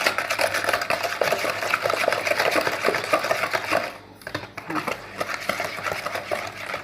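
Eggs and sugar being mixed in a bowl for Nesquik biscuits, with a steady rapid scraping and clinking of a whisk or spoon against the bowl, close and continuous, briefly dipping before resuming.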